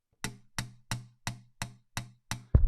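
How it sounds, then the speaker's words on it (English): Slap technique on an unplugged guitar, metal string snapping against the fret: seven evenly spaced, crisp percussive hits at a steady rhythm, close and dry, followed by a louder scraping burst at the end. "I'm going to do the slapping technique without any guitar pickup. You're only going to hear this microphone. It's the string hitting the fret."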